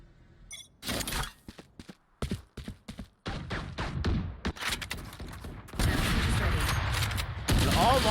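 Gunfire in a Valorant show match: sharp shots and rapid bursts, loud and close, alternating with short quiet gaps before dense sustained firing near the end.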